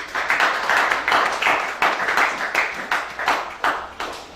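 A church congregation applauds during a worship service, steady rhythmic clapping in a lively, moderately loud burst with no talking over it.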